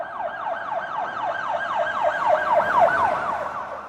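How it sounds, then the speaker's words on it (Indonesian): Ambulance sirens wail in fast, repeating up-and-down sweeps, loud and close, arriving at a hospital emergency room at RSCM, with no voices over them. "Suara sirine ambulan ramai terdengar datang silih berganti di depan ruang gawat darurat RSCM"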